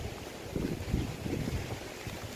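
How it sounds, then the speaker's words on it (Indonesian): Strong wind from a storm blows over tomato plants, a steady blustery rush with rumbling gusts buffeting the microphone, moderately loud and continuous with no voices. "terkena angin kencang ya."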